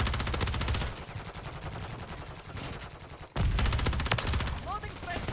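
Rapid gunfire from the video game Call of Duty: Modern Warfare III in a Hardpoint match, loud bursts of automatic fire that ease into quieter shots before a sharp cut and another heavy burst.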